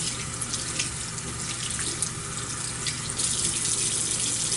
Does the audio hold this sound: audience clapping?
no